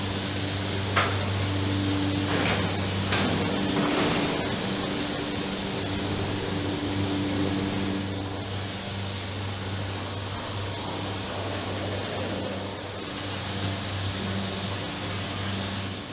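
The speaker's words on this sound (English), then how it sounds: "On the way, the eggs are passed through a machine to vaccinate them." Hatchery machine vaccinating chicken eggs on their way to the hatcher: a steady mechanical hum with a constant low drone, broadband hiss and a few sharp clicks and knocks early on.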